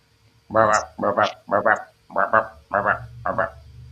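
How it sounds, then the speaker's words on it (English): Tree frogs croaking in a water-filled stock tank, six loud, close, rasping pulsed calls repeating at a steady rhythm with brief pauses between them. "It's full of tree frogs"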